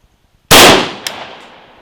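Wolf 55-grain hollow-point round fired into a ballistic gel block, one very loud, close, sharp blast after a moment of near silence, then a fading echo with a faint clink.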